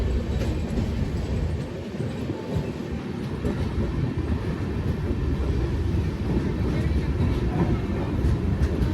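A train pulls into Gwalior station, running about 40 minutes late, with a steady low rumble and rolling wheel clatter that stays close and loud throughout.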